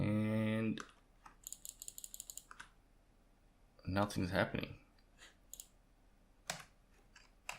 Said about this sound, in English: So I'm clicking on that like crazy